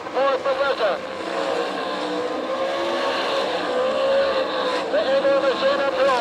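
Dirt-track heat race at Tulsa, Oklahoma, with All Stars and NCRA sprint-style race cars roaring together, engines whining and rising in pitch through corners, loud and continuous under an announcer's voice over the PA.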